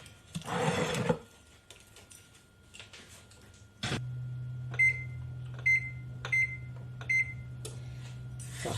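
A gluten-free vegan quinoa flatbread goes into an oven: a brief rustle, then a thump as the door shuts, followed by a steady low appliance hum with several short, sharp clicks or beeps spaced over it.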